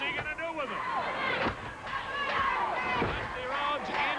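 A 1986 Central States wrestling crowd at a Ric Flair versus Dusty Rhodes match chanting for Dusty, rhythmic cheering voices swelling in repeated waves, loud and continuous.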